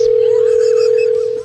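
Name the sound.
telephone dial tone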